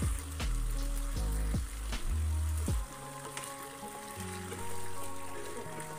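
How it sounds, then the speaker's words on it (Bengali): Bone-in chicken pieces fry and sizzle in a pan as they are stirred, with several loud clattering hits of the spoon against the pan over a steady hiss, and no voices. "আমি এখানে চিকেনগুলো এখন দিয়ে নিয়ে ভালো মতো একটু নাড়াচাড়া করে নেব।"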